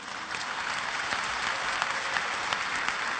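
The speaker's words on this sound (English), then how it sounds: "MashaAllah, you're clapping." Audience at an Islamic conference breaks into sustained applause, a dense wash of many hands clapping together that stays steady and fairly loud throughout, with no voices on top.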